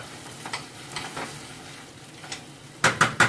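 Food sizzling in a pan on high heat, a close crackling fry with a few soft stirring scrapes, ending in three loud sharp clatters of a utensil against the pan.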